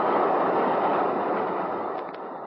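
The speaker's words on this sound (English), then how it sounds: "The train's starting to sway already" A train in motion as a radio drama sound effect, a steady broad rushing rumble that stays loud and even throughout, with no voices.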